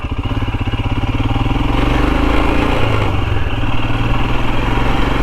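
Royal Enfield Himalayan single-cylinder motorcycle thumping along narrow Cornish country lanes, a loud, close, steady engine pulse with wind noise as it rolls on at moderate speed.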